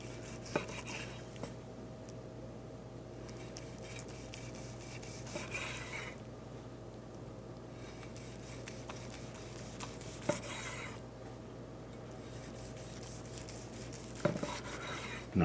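A knife slicing through smoked brisket, quiet repeated soft strokes and scrapes with a few faint taps on the board, low and steady over a faint background hum, no voices.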